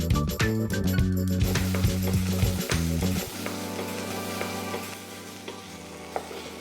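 Sweet potatoes tipped into hot oil with caramelized sauteed onions for a Malaysian satay curry, a loud steady sizzle with clinks and stirring knocks early on, settling into continuous frying.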